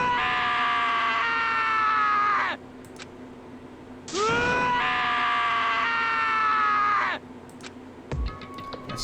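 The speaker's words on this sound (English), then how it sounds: "As Taka's sad screams invaded our skulls" A character's drawn-out screams during an execution scene in the Danganronpa: Trigger Happy Havoc video game, two long loud wailing cries separated by a short gap, followed by brief sharp sounds.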